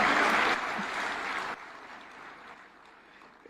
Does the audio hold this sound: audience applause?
yes